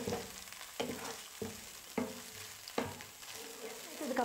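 Onion and tomato paste for mutton curry sautés in a pan over medium flame, a low continuous sizzle broken by four or five spoon scrapes and stirs at irregular intervals, close and fairly quiet.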